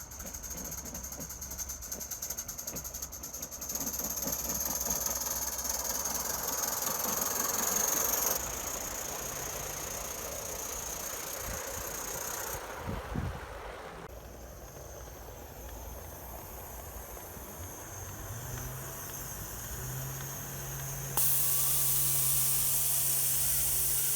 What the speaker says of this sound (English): we'll now see some live steam running